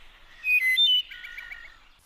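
Songbirds sing in a quick run of clear whistled notes, then a fluttering, rapidly repeated trill, bright and fairly close against a quiet background.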